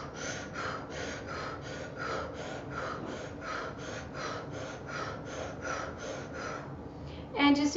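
Slow, deep rhythmic breaths during meditation, about a dozen steady inhale-exhale cycles close to the microphone, fairly soft, with a sharper sound at the very end.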